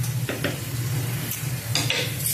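Carrots tumble into menudo frying in a pan, raising a steady sizzle with scraping stirs and a few light clinks of utensil against the pan, close and without talk.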